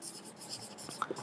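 Chalk or marker scratching across a board in a physics classroom, a run of short soft strokes with a couple of sharper taps near the end, faint and close with no talking.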